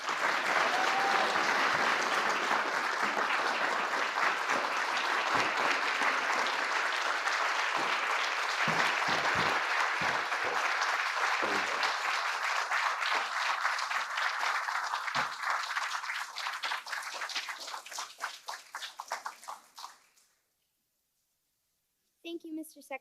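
Audience applause greets Gabby and Ava as they come onstage at a White House event, steady and loud for nearly twenty seconds, then thinning to scattered claps before going silent.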